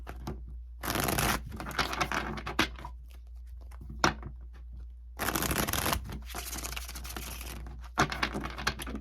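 Tarot cards shuffled in repeated bursts, crisp riffling and flapping near and clear, separated by short quiet pauses.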